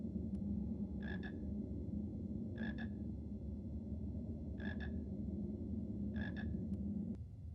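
A frog croaks in the Harry Potter and the Philosopher's Stone PC game, four short double croaks spaced evenly over a steady low ambient hum.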